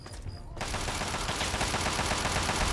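Rapid automatic gunfire in Fallout 3 erupts after a brief quiet moment, then rattles on loudly and continuously as a sustained burst of overlapping shots.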